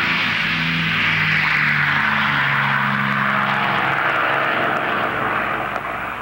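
A WWII dive bomber's piston engine and propeller drone steadily and loudly throughout, a thick continuous roar with a low throbbing hum underneath and no voices.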